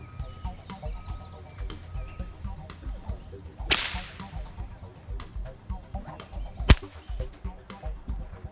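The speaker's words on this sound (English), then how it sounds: "If you've never heard a whip crack in person, trust me, video doesn't do it justice." A single sharp whip crack splits the air partway through, followed by a second loud, very short snap near the end, both standing out against low background murmur and light rustling.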